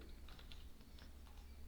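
Quiet clicking taps on a computer keyboard, a loose irregular run of light keystrokes over a low steady background hum, with no voices.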